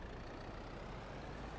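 A tractor engine idles at an oil mill in Farming Simulator 22, a steady, dense low rumble running without a break through the whole short stretch.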